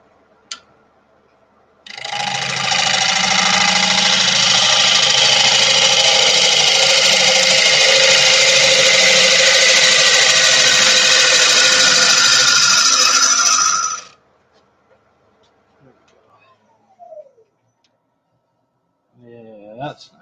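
A wood lathe with a workpiece for turning with a 1/2-inch bowl gouge spins up and runs steadily, a loud continuous whir with rattle that holds for about twelve seconds, then cuts off abruptly, followed by faint noises and brief talk.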